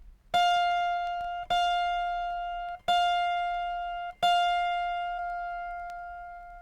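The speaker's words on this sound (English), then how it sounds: "And D sharp in the higher octave." The higher-octave D sharp string on an autoharp is plucked four separate times, each note ringing clear and slowly decaying before the next, close and quiet with no voices.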